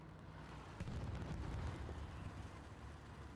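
Distant gunfire and explosions in a Hell Let Loose tank-only battle, faint muffled booms and pops rumbling in the background with no talk.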